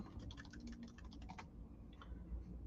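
A quick run of crisp keyboard keystrokes clatters for about a second and a half, followed by a few scattered taps. The typing is close but quiet, with no voices.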